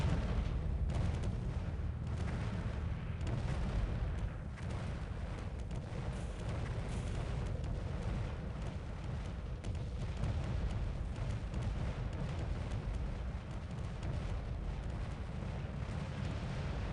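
Artillery units firing in the real-time strategy game Earth 2150, a dense, steady rumble of distant booms and crackling impacts, fairly quiet, with no talking.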